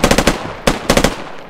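Rifles fire in rapid bursts during a two-man shooting drill, sharp loud cracks in quick clusters of four then two and three, with short gaps between strings.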